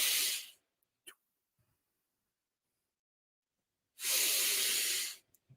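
A slow, long breathing exhale and a second extended exhale, both close and clearly audible, with soft breath noise in the quiet gap between them, taken as a relaxation exercise with the belly filled through the diaphragm.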